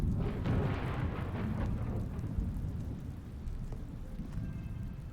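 Video game thunderstorm in The Stanley Parable: a deep rolling thunder rumble over steady heavy rain, the roar fading slightly while the rain hiss continues throughout.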